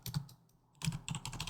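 Bursts of keystrokes on a computer keyboard, a quick cluster, a pause, then a longer run of clicky typing, close and fairly quiet with no speech.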